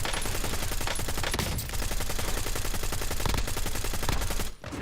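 Rapid, continuous automatic gunfire in a video game, with tightly spaced shots hammering loudly for several seconds before briefly breaking off near the end.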